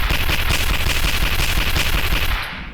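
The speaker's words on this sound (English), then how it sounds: "these guns are loud" Loud, sustained automatic gunfire from a Warhammer 40K video game, a dense continuous rattle of shots for almost three seconds that fades out at the very end.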